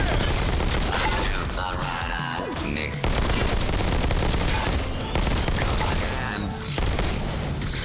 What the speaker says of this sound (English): That rogue bot has a shotgun.